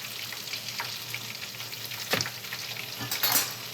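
Chicken fillet fries for chicken ala king, a continuous hiss and crackle of hot oil with a few sharper pops and spatters. Nobody talks.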